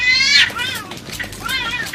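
Cats screeching in a fight, two drawn-out, wavering yowls, loud and close, the first harsh and high, the second rising and falling after a short gap.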